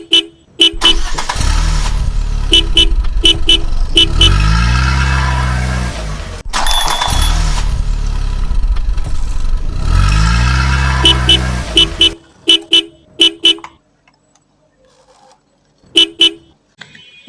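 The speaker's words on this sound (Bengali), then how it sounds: "তখনই একটা মোটর সাইকেল চলে আসে খুব জোরে।" A motorcycle revving loudly up close and speeding past, its engine surging and fading twice, with sharp repeated horn toots at the start, middle and end before it drops away.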